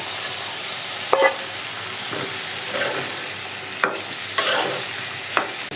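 Potatoes, green chilies and bean seeds are stirred into a sizzling spice masala that is being cooked with fish, with a steady frying hiss broken by several scraping stirs of the pan and no talk.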